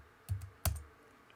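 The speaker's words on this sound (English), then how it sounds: "Hitting return on the keyboard" Two crisp clicks from a computer keyboard as the return key is struck, the second sharper and louder, close and quiet against a near-silent room.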